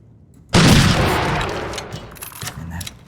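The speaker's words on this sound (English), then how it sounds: "And that gun blast is so loud." A single loud gun blast in Skyrim cracks in suddenly after a short quiet stretch, then leaves a long rumbling tail that fades over a couple of seconds, close and dominant.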